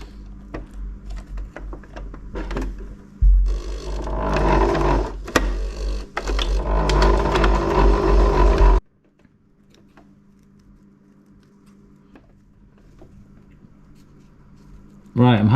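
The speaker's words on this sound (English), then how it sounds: "I'll just put a couple of stitches in to hold it in place first" A sewing machine runs in several loud bursts while stitching a modification into a Hilleberg Soulo tent, with quieter handling clicks between runs.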